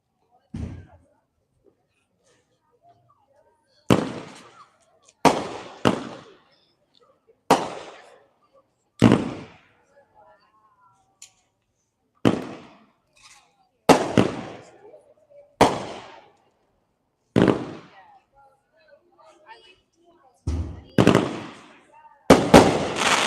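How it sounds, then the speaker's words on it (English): A Great Grizzly Moneymaker 13-shot firework cake fires at a demo night, sharp booming shots spaced irregularly over about twenty seconds, the last few coming in a quick cluster with silence between. "That was Moneymaker 13 shot from Great Grizzly"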